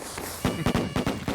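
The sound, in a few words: firecrackers in a video game (Dead by Daylight)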